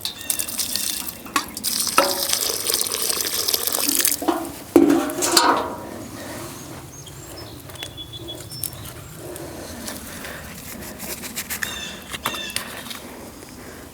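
Water pours into a prepared planting hole for a perennial herb in a garden, a splashing gush for the first few seconds that thins to a quieter trickle and scattered small knocks, close up, with no talking.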